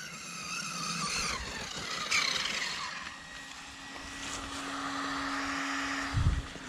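A WLtoys 12402-A brushless RC car drives across grass, its electric motor giving a steady high whine that rises and falls with throttle, with a couple of brief louder bursts. No one speaks.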